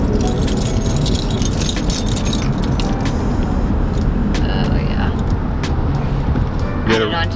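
Keys jingling on a key ring in quick metallic bursts, close and bright, over a continuous rumble of car and road noise, with a voice talking in between.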